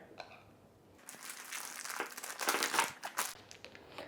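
A plastic piping bag crinkles and crackles as it is filled with paste, starting quiet and then growing into a dense run of sharp, close rustles and crumples.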